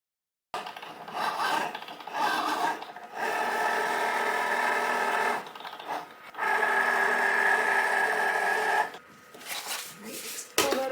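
A Cricut cutting machine works its blade across a card, making a steady raspy whirring in long passes separated by short pauses, loud and close, with no talk.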